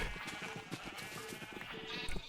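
Sheep bleating in Minecraft, a run of short repeated bleats close by over a busy background of game music and ambient noise.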